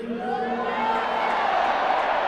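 Large crowd cheering and shouting during a speech by Modi, a sustained swelling roar of voices and whoops.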